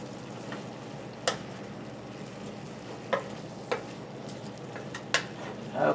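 Frozen vegetables sizzle steadily in garlic butter in a pan, with a constant frying hiss broken by several sharp scrapes and clinks as they are stirred around.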